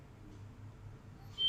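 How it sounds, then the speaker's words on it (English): A single short electronic notification tone from a Lenovo K3 Note or YU Yureka Plus smartphone chimes suddenly at the very end, bright and fairly loud after a near-silent low hum. "So I have just received that notification"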